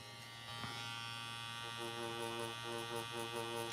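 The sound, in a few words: tattoo machine buzzing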